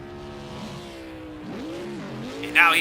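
Race car pulling away from a pit stop in Project CARS 2, engine tone climbing and shifting as it accelerates, with a brief sharp burst near the end; a voice talks over it.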